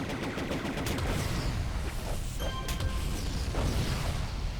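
Sniper gunfire in the video game City of Heroes, a string of sharp shots and cracks with a mechanical clatter over dense game noise, loud and continuous with no talk.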